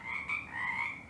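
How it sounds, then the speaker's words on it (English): Frogs croak in a swamp within the Demonheart video game, a couple of overlapping drawn-out croaks, clear and close with no voices over them. "Nothing to be afraid of, it's just frogs."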